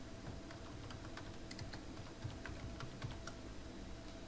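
Rapid, light keystrokes patter on a computer keyboard during online form entry, steady and fairly faint against a constant background hum.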